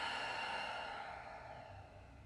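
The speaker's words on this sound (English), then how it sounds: "Open mouth, exhale." A long open-mouth exhale during a yoga breathing exercise, one steady breathy rush that fades slowly over about two seconds, close and fairly quiet with no talking.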